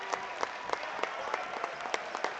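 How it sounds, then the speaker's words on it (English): Steady crowd applause fills a high school basketball gym during Emporia's home game against Washburn Rural, with scattered sharper claps and cheers standing out over a dense, continuous wash of clapping. "It's a big round of applause for that second group that came in and really held their own against a very good Washburn Rule team"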